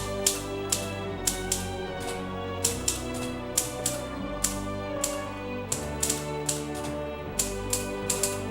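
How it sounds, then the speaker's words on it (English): Dr. Kong's three-face Hangul typewriter typing: sharp mechanical key strikes in an uneven rhythm, some in quick pairs, close and clear over a low steady background hum. "Dr. Kong's three-face typewriter is still very efficient"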